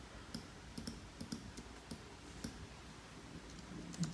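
Quiet, sparse clicks of a computer keyboard and mouse sound at an irregular pace over a low background hiss, faint and close, with no speech.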